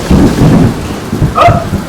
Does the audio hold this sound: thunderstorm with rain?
yes